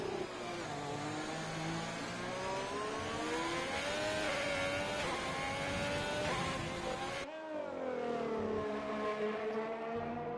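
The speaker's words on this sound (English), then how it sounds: "You hear the front wheels locking up." An F3 race car in a racing video game, its front wheels locking up, with a loud, continuous high-revving engine whine that sweeps in pitch and drops sharply near the end before climbing again.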